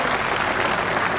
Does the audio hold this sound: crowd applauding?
yes